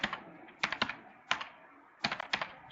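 Computer keyboard typing while writing code for a Squariads game in code.org Game Lab: irregular bursts of close, crisp keystrokes separated by short pauses, with no talking.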